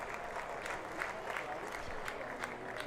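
A cricket crowd at a Glamorgan versus Surrey Twenty20 match gives a steady round of applause after a dot ball, dense clapping throughout with a commentator's voice faintly over it.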